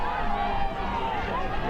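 Dense, continuous crowd noise roars at a rowing regatta finish line during the closing metres of an A final race, a steady wash of cheering with a commentator's voice running over it.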